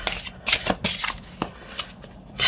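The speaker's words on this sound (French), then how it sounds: "On va tirer une autre carte." Oracle cards being shuffled and drawn, a run of crisp papery riffles and flicks in quick irregular bursts, close and fairly quiet with no voice.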